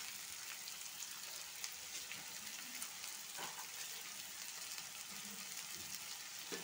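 Capsicum and potato pieces fry in a pan for aloo kurma, giving a steady, even sizzle that runs the whole time at low volume, with faint stirring scrapes now and then.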